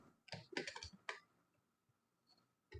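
Typing on a computer keyboard during a web coding session: several quick bursts of close, crisp key clicks, then a pause and a final short flurry of keystrokes, with no talking over it.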